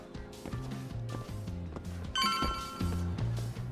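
A phone rings in the video game Lost Judgment: a repeating electronic ringtone of bright pulsing tones over a low, busy in-game music bed, moderately loud and with no one speaking.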